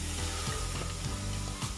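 Greens frying in oil with black cumin, boiled garlic and green chillies make a dense, continuous sizzle with occasional soft stirring scrapes, brief and close.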